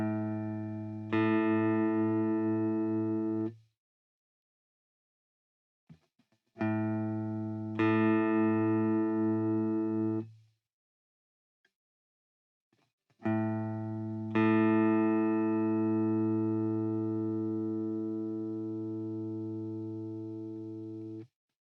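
Plucked low E string of a guitar rings out three times, each note sustaining and fading with a slight wavering pitch as the string is retuned, with short silences between plucks and no talk.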